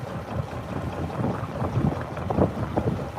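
A narrowboat engine idles as it warms up, a low, steady rumble close by with some wind buffeting across the microphone.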